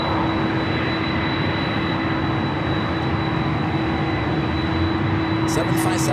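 A Boeing 767 airliner at LAX, a steady broad engine roar with a constant tonal whine, sustained and loud throughout with no break.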